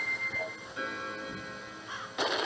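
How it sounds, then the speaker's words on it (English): Clock in the video game Majora's Mask, a tonal chiming with sustained ringing tones and a steady ticking rhythm, close and moderately loud, no talk over it. "Hello, clock. Chiming 6 o'clock."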